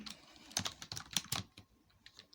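Fingers type on a computer keyboard for steno practice, giving quick, uneven bursts of fairly close key clicks and taps at a moderate level with brief pauses, and no voices.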